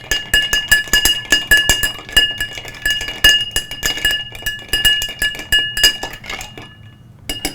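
A cocktail stirred with ice to chill it, with rapid bright clinks of ice and a metal spoon against glass in a steady rhythmic run, loud and close, then fading out at the end.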